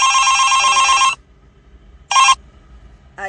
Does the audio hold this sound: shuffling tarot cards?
no